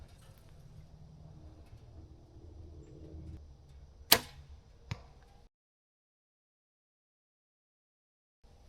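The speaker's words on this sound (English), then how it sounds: "see if we can watch that arrow fly" An arrow is loosed from a bow at a life-size moose target about 80 yards off, giving one sharp crack followed by a fainter impact-like tick less than a second later. Low outdoor rumble runs underneath, and silence follows.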